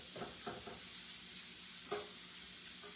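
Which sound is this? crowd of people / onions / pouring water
onions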